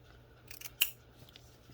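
Scissors snip through paper for a junk journal page, a few soft crisp cuts ending in one sharper snip, close and quiet against a faint background hum.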